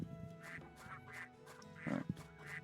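Ducks in the video game Baten Kaitos quack in repeated nasal bursts, several overlapping, with a louder cluster near the end over a steady game music bed.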